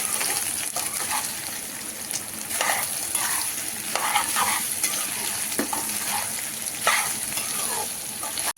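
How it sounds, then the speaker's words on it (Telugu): Soya chunks with green chillies and curry leaves sizzle in hot oil on high flame, loud and close, while a spoon scrapes and stirs the pan in irregular strokes. "ఇది క్రిస్పీ మిల్ మేకర్ ఫ్రై కాబట్టి మనకు క్రిస్పీగా కావాలి కాబట్టి మనం మంచిగా ఫ్రై చేసుకోవాలి"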